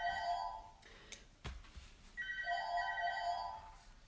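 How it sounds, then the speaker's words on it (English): A telephone rings indoors in two bursts of electronic trilling separated by a short gap, fairly faint, with a brief knock between them and no talking over it. "I'm going to ignore the phone"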